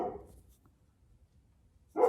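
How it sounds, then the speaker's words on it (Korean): A dog barking at home in two short, sharp barks, one at the start and one at the end, separated by near silence, close and moderately loud. "저희 개가 막 짖네요."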